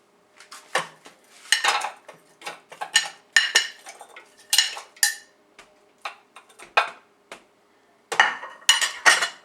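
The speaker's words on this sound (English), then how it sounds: "We're going to chop the tomatoes and onions and pepper together." Tomatoes, onions and peppers are chopped on a kitchen board with a knife, a series of close, sharp clinking taps arriving in irregular bursts for a vegetable soup, with no talk.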